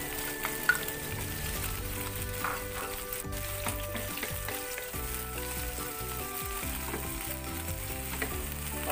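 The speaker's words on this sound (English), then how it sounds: "Higyan natin yung sibuyas." Onions sizzle in a pan while Korean-style pancit canton is cooked, making a steady crackling fry with scattered pops and the clatter of stirring, fairly close and without any voices.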